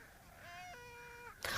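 A cat lets out a single rising, then falling meow, close and fairly quiet, followed by a brief burst of noise at the end.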